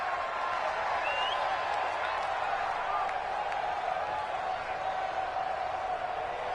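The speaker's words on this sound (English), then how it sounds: "The crowd here in the Dome making things difficult." A steady, loud roar of a stadium crowd inside a dome during a Panthers vs Saints football game, with a commentator's voice running over the continuous wash of noise.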